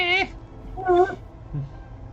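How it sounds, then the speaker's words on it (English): A mother cat yowls at her kitten with two sharp, harmonic meows close by, followed by a fainter, lower third cry. "Cat. She's yelling at her kid because her kid climbed up on the couch."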